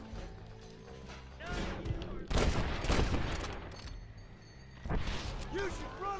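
Bolt-action rifle shots in Red Dead Redemption, several loud cracks and bursts in a noisy gunfight mix, with background game sounds and voices around them.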